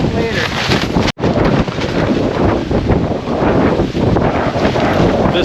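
Strong wind buffets a campsite at Land Between the Lakes, a loud, continuous roar of gusts battering the microphone with a brief dropout partway through.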